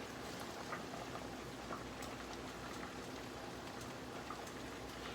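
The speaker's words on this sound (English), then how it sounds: "I'm just going to sit them in this garlic and olive oil" Shrimp seasoned with Old Bay and lemon pepper sizzling in garlic and olive oil, a steady dense crackling hiss with scattered pops, continuous and fairly even throughout.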